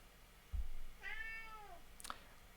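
A cat in an office lets out a single drawn-out meow, close and clear, followed by a short sharp sound, with a brief low thump just before it against a quiet room background.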